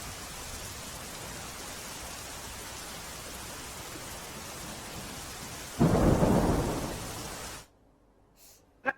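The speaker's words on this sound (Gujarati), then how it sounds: "ગ્રામ્ય વિસ્તારોમાં ધોધમાર વરસાદ પડી રહ્યો છે" Heavy monsoon rain pours steadily over rural Banaskantha in Gujarat, then a loud, deep thunder rumble swells near the end before the sound cuts away to near silence.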